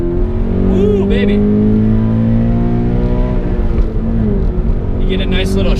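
A 2017 Subaru BRZ's engine revs and pulls through the gears on a test drive, heard close and loud from inside the car with a steady climbing drone. A voice speaks over it at moments.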